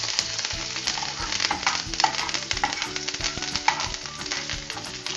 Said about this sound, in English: Gonna just fry it a little bit.